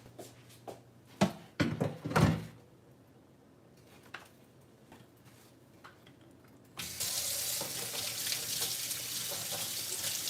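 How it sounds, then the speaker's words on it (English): Tap water runs steadily into a kitchen sink while dishes are washed, starting abruptly as a loud, continuous hiss after scattered clinks and knocks of dishware. "Let me get these dishes wrapped up really quickly"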